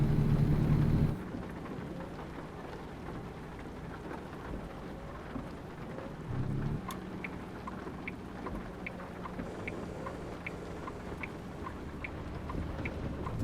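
A thunderstorm in American Truck Simulator brings steady rain drumming and low rumbles of thunder, with a loud burst at the start and a quieter rolling swell partway through.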